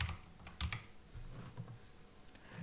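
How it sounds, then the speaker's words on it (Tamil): Someone types hello world on a computer keyboard, a quick irregular run of soft close key clicks with short pauses, quiet and without talking. "நான் சும்மா ஹலோ வேர்ல்டுன்னு அடிக்கிறேன்."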